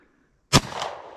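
A single sharp gunshot from a Rossi R92 lever-action rifle fired outdoors, a loud close crack followed by a long rolling echo decaying over the next half second.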